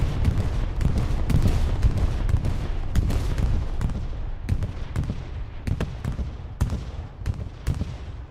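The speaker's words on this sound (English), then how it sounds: "Katusha is falling in on the very far right-hand side." Katyusha rocket artillery barrage landing in a World War II video game, a dense, continuous roar of overlapping explosions with sharp impacts cracking through at irregular intervals, loud and fairly close.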